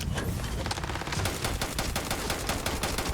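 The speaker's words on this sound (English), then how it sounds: "He's shooting me with Unit 99!" Rapid automatic gunfire from the Unit 99 weapon in the video game Starfield, a dense, continuous burst of shots rattling loudly and steadily throughout with no voice over it.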